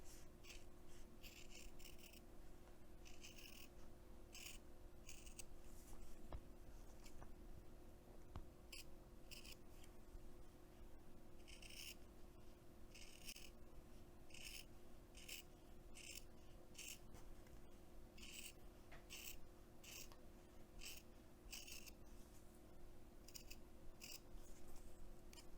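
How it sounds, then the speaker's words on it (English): Scissors cut through fabric in a long, steady series of quiet snips, each a short crisp rasp repeating about once a second, close and alone with no talk. "then cut with my scissors"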